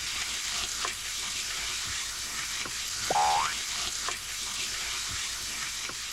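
Vegetables stir-fried in a pan for konjac tteokbokki give off a steady, close sizzling hiss, broken by a few short stirring scrapes and one brief chirping squeak midway.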